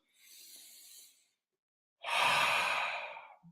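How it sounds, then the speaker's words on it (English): Two slow breaths, the first a soft airy inhale through the nose, then after a pause a louder, fuller exhale through the mouth, close and clear, with no speech. "Big breath, not just little, not little breaths, but breathing from my head all the way here, breathing low"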